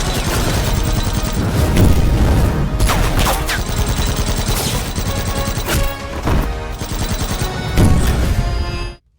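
Dense, loud gunfire rattles through a fight scene in an action film: rapid bursts and crashing impacts, with a few sharper blasts standing out, before it cuts off abruptly.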